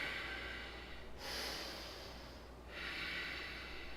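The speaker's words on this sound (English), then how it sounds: "Take a few nice breaths." Slow, deep breathing in a yoga exercise, two long audible inhales through the nose close to the mic, separated by a quieter pause.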